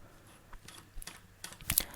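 Several quick keystrokes on a computer keyboard while a search term is typed into the Windows search box, soft, close clicks spaced unevenly in a quiet room.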